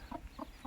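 A hen with her brood of chicks gives three soft, evenly spaced clucks, faint and close, with quiet background between each call.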